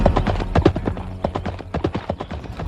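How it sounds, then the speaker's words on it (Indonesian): Horses galloping up a steep mountain slope beat out a quick, uneven clatter of hooves, several animals close together, with no talk over them. "Mereka terus menggebrak kuda, menyusuri tanjakan-tanjakan yang semakin tinggi."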